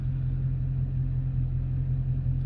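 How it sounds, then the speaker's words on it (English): A 2019 Dodge Charger Scat Pack with a 485 hp engine holds a steady, heavy low rumble while being brake torqued, loud and close throughout with no talking. "I'm just going to brake torque it myself"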